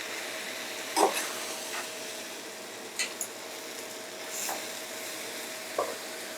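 Tomatoes simmering in a pot, a soft bubbling sizzle with faint steam hiss, broken by a few short clinks and scrapes of stirring.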